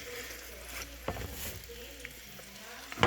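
Food frying in a pan of oil on an electric stove, a low steady sizzle with scattered crackles and a few sharper pops, one louder burst near the end.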